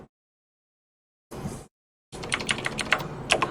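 Keys clatter on a computer keyboard in a short burst, then after a pause a quick, dense run of typing with a few harder taps, heard close and alone.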